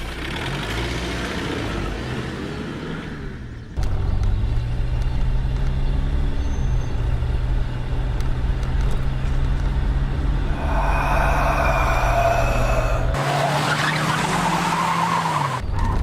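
A car engine starts up and pulls away loudly, a steady low engine drone with a rising note as it drives off, tyres scuffing, in a Hindi horror film scene, no talk.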